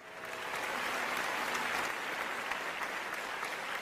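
Audience at a Sir Syed Day event in Jeddah applauds to welcome children performing a skit, steady sustained clapping from a crowd indoors, moderately loud and without speech.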